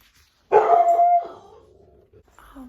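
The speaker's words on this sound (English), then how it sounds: "I hope you enjoyed my dog barking" A dog gives one loud, drawn-out bark that trails into a howling whine, close by, followed by a brief faint yip and then quiet.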